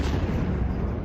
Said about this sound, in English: Today, more explosions and smoke could be heard and seen across Tehran